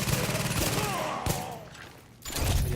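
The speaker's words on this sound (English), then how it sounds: "I'm using my pistol right now too" Pistol gunfire in The Division during a Carrier mission run, a steady spatter of shots under busy game noise that dips briefly before another loud burst of firing near the end.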